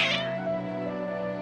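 Cats in the video game Genshin Impact let out a loud, drawn-out meow with a brief caterwauling edge, close and clear against a steady tonal background.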